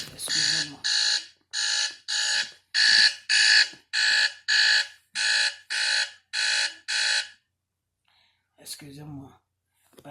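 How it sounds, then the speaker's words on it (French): An alarm clock rings loudly in a regular pulsing beep pattern of about a dozen evenly spaced bursts, then stops, followed by a brief quiet spoken word close to the microphone. "c'est mon réveil qui sonne"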